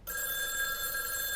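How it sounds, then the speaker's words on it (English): A telephone rings with a continuous shrill electronic trill, loud and close, sustained without pause and without voices. "The phone was ringing."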